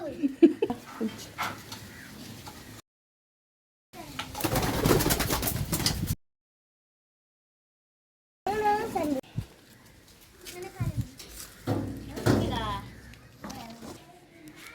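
Racing pigeons fitted with small leg rings coo at close range while people talk over and between the calls, with a short stretch of louder bird activity and brief silent gaps.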